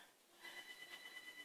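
A telephone rings faintly in a woodworking shop, heard as soft, thin repeating tones rising out of a hiss of room noise, as if the phone is in another room.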